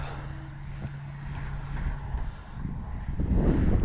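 An electric motor on a T.H. ASW-28 RC glider runs with a steady whirring drone that holds for several seconds and swells slightly louder toward the end, with outdoor wind noise underneath.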